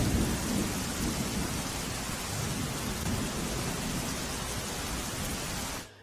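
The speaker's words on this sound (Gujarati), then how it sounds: "દ્વારકાના ખંભાળિયામાં વિરામ બાદ ફરી વરસાદ શરૂ થયો ભારે વરસાદ થતા રસ્તા પર પાણી ભરાઈ ગયા છે" Steady, dense downpour of heavy monsoon rain roaring continuously in Khambhalia, Dwarka, Gujarat, flooding the roads, with a low rumble underneath, then cutting off abruptly at the end.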